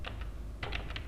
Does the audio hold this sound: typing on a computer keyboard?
yes